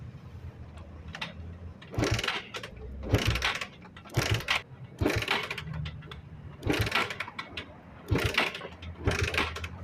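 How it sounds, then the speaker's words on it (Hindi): Bajaj Pulsar motorcycle being kick-started, heard as a series of repeated mechanical kick strokes with rattling clanks, close and moderately loud, with no talking. "अब दोस्तों हम किक यूज करेंगे दोस्तों।"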